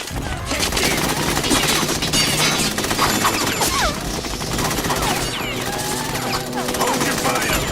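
Dense gunfire from Metal Gear Solid 2 crackles in sustained automatic bursts over game music, with a shouted voice and sharp impacts layered through the loud, busy mix.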